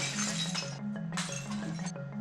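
Jianwei tea bowls are smashed one after another, sharp ceramic shattering and clinking bursts that are fairly faint and close, with a steady droning hum running underneath.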